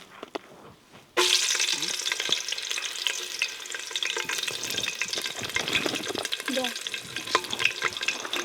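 Bay leaves and chillies hit hot oil in a kadai at a village cooking setup, breaking into a loud, sudden sizzle after a second of quiet. Steady crackling frying follows, with occasional stirring clatter.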